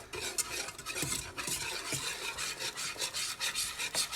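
A boiling mixture being stirred in a pan, with continuous scraping and rasping strokes in an uneven rhythm over a bubbling sizzle, close and steady, with no talking.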